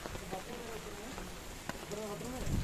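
Heavy rain pattering steadily at Parshuram Kund, a dense hiss of drops on surfaces heard close by, with a person speaking over it.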